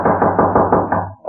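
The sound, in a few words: loud knocking at a door, radio drama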